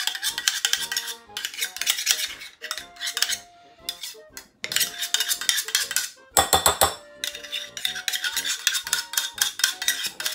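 Utensil scraping and clinking against a dish while stirring a sour cream and mayonnaise mixture, a busy irregular rhythm of metallic taps with a brief pause midway.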